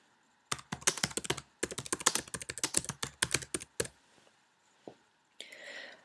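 Computer keyboard typing in quick bursts of close, crisp key clicks, pausing briefly midway, then trailing off into a faint rustle.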